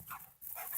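A pet dog named Bogey gives two short, faint barks indoors, separated by a brief silence.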